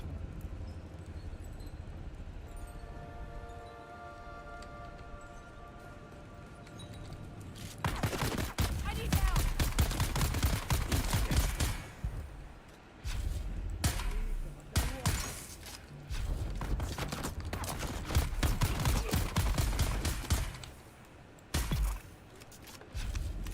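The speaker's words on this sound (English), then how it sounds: "Explosive rifle." Explosive rifle firing in the Dune Awakening video game, loud crackling bursts of blasts arriving in rapid clusters after a quieter start, with a short pause before more shots.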